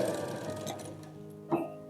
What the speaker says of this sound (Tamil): நம்ம கட் பண்ணி எடுத்தோம்ல கழுத்து துணி, அதை நம்ம இப்படி வச்சு தைச்சுக்குவோம்.